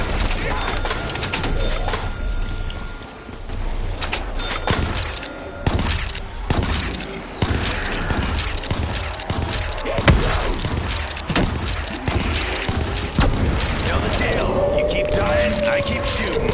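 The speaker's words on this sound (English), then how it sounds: "I keep shooting." Rapid video-game gunfire crackles in dense bursts of sharp shots, loud and close, with short pauses between volleys over a steady background of game noise.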